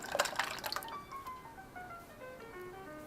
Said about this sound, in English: it is time to add my pasta sauce or whatever you bought